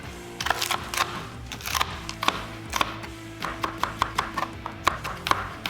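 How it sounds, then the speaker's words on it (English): Serrano peppers are chopped with a knife, about fifteen crisp, close strikes landing in uneven bursts with short pauses between them and no voices over them. "some serranos I'm gonna chop up"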